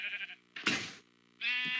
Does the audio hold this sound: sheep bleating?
yes